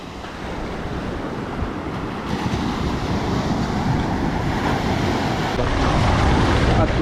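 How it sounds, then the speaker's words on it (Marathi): A speed boat comes in over the sea near a beach under a constant roar of surf and wind buffeting the microphone, and the noise swells slightly toward the end. "ही स्पीड बोट आहे ना, त्या बोटीने आम्ही जाणार आहोत"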